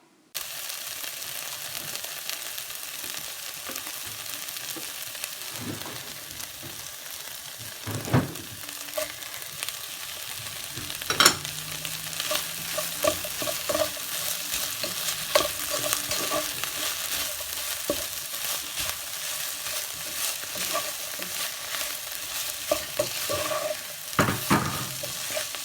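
Food frying in a pan is stirred with a utensil, a steady close sizzle broken by irregular scraping and clattering strokes against the pan throughout, with no talking.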